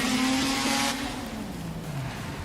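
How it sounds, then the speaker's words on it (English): A rotary-engined drift car launches from the starting gate at a Drift Kings Asia round in Malaysia. Its loud, buzzing engine note holds high, then falls steadily in pitch as it pulls away, with no talk. "our boy whips that rotary engine out of the starting gate"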